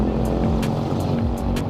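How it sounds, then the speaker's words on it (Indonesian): A Kawasaki ZX25R motorcycle engine idles and revs lightly, a dense loud continuous drone with a steady low rumble and faint rising blips. "ini gua sambil bahas di sini sambil ngegas tipis-tipis kayak gini ya"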